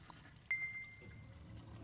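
A toilet flushes in the video game Aperture Desk Job, a sudden onset of rushing, pouring water with a bright ringing tone that sustains and then settles into a steady trickling wash.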